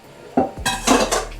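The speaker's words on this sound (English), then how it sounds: "So we're draining our pasta." Pasta drained through a colander while making bacon mac and cheese: clattering metal pot and colander knocks and a rushing pour of water, close and loud, with no talking.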